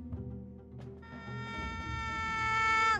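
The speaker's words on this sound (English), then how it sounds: "Some sort of space mosquito?" A synthetic buzzing insect effect, a space mosquito in a tabletop role-playing game: a thin, whining drone that rises in pitch and swells steadily louder over a few seconds, alone and close.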